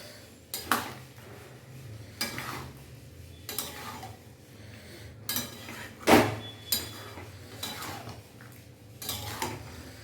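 A metal spoon stirring and scraping through a taro root and prawn curry with yogurt in a pan, a series of spaced clinks and scrapes against the pan over a faint background hum, with no talking.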